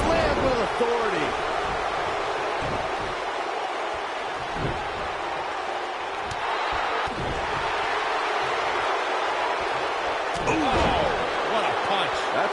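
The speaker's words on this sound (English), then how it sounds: "What a punch." A punch thuds during a WWE wrestling match, one impact among a few muffled smacks beneath steady arena crowd noise and commentators talking.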